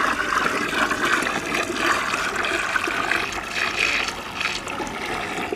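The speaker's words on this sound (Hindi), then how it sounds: "तो हम लिक्विड सीवीड को मिलाने वाले हैं और इसको भी हम ठीक तरीके से मिक्स कर लेते हैं" Liquid seaweed extract poured and stirred into homemade organic fertilizer, a steady, loud rush of splashing and sloshing liquid that runs on without a break, no voices.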